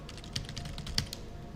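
Keys clatter on a computer keyboard while someone writes code, a quick run of light, uneven clicks at close range over a soft background hiss, with no voices.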